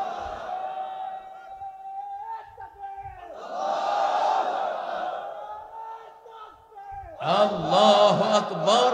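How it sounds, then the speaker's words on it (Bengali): A large crowd at an Islamic sermon gathering roars a loud collective Nara-e-Takbir chant in two swelling bursts, following a voice speaking over an amplified sound system. "নারায়ে তাকবীর দাও না মিয়া, বরকত আসুক, দাও নারায়ে তাকবীর"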